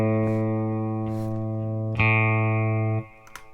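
A sustained A note from an electric guitar played through the bridge pickup of a Telecaster, bright and harmonically rich, restruck once partway through and ringing loud and steady before cutting off abruptly.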